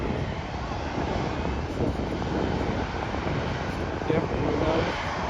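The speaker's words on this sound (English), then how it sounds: "So we should be getting a New York flight coming in." Airliner arriving from New York and coming in to land at Manchester Airport, a continuous roaring engine rumble heard from a viewing park, mixed with wind buffeting the microphone.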